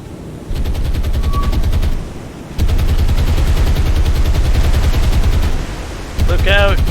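Naval guns on cruisers in the video game War on the Sea fire in a loud, dense barrage of rapid, overlapping blasts and rumbling explosions that continues almost without pause.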